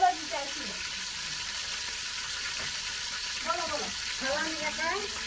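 Onions frying in hot oil in a home kitchen, a steady close sizzle running throughout, with a person speaking intermittently over it.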